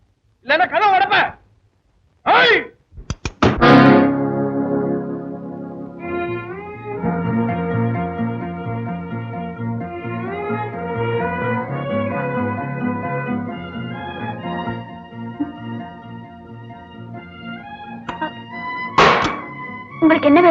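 Several loud, hard thuds of someone banging on a door come in quick bursts at the start and again near the end, while a stretch of music plays in between, in a Tamil film scene.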